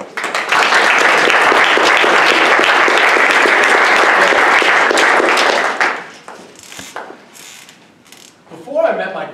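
Loud, dense audience applause at a Toastmasters club meeting, sustained for about six seconds before thinning into a few scattered claps and room noise.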